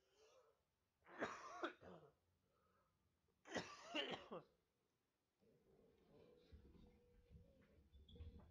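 A man coughs and clears his throat in two short, harsh bursts separated by a pause, followed by quieter low rustling.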